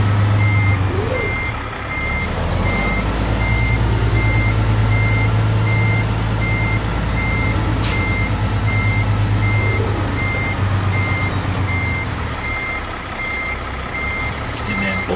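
A truck in American Truck Simulator turns around in a yard, its reversing alarm beeping in a steady, evenly spaced series over a loud continuous engine drone throughout.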